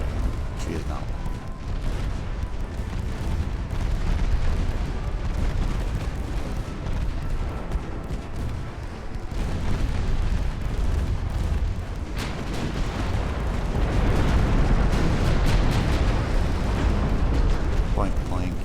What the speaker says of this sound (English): Point blank shots straight into the bow.